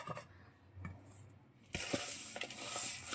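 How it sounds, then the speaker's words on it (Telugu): Mutton trotters being rubbed and washed by hand with coarse salt and turmeric, giving close wet scrubbing and squishing with a few clicks, then a louder continuous rush of washing water. "దొడ్డుప్పు పసుపు వేసి మంచిగా రాసి రాసి కడిగితే ఇదంతా ఈ బ్లాక్ అంతా పోతుంది అనమాట"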